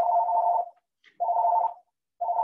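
A home telephone rings with a steady electronic tone, sounding in repeated bursts of about half a second separated by short silences, clear and close.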